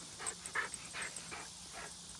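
Cora, a dog out on her first off-lead session, pants in soft, rhythmic breaths that repeat about every half second, fairly quiet and close, with no talking over it.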